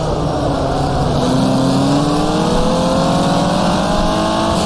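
Race car engine in the 2005 racing game rFactor, a loud continuous close drone that rises in pitch as it revs, with gear changes marked by shifts in the engine note.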